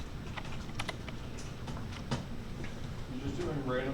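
Computer keyboard typing in a short burst of light, irregular key clicks, close and fairly soft, with people talking over it.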